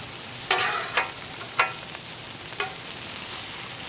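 A burger fries on a Blackstone griddle with a steady soft sizzle, broken by a few sharp spatula scrapes and bursts of crackle, no voices.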